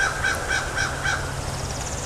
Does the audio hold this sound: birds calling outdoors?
yes